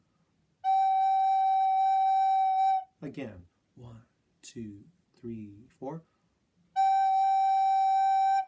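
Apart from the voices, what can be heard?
recorder playing a G note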